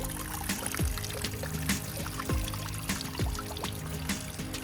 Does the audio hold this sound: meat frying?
no